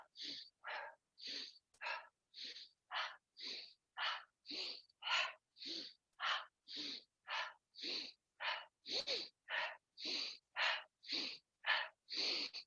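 Rhythmic breathing in a strength-training session, each breath drawn in through the nose and pushed out through the mouth, about twenty forceful, close, evenly spaced breaths, with no talking.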